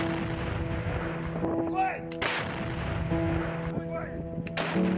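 Artillery fire in Ukraine war footage: several booming shots and sharp cracks over a constant rumbling background, with a couple of loud bursts standing out near the middle and end.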